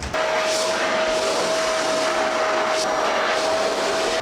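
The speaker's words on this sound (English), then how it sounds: "I need you to help me to hoover, please, before you go to work." A vacuum cleaner hoovering indoors gives a continuous loud whooshing roar with a steady high whine running through it. The sound holds evenly for several seconds without pause.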